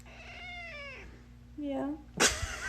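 A cat meows twice, first a long drawn-out cry and then a shorter mewl, followed by a sharp noisy burst, all over a faint background hum.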